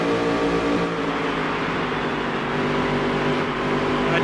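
A race car engine in the Dirt to Daytona video game, droning loud and steady at high revs, with a dense continuous roar that holds throughout and no voices.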